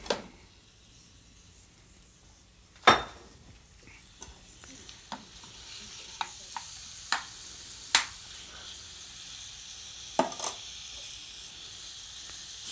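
Food frying in bacon drippings, a soft steady sizzle with scattered sharp clinks and scrapes of a utensil stirring in the pan, close and fairly quiet.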